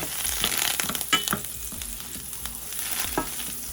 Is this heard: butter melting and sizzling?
yes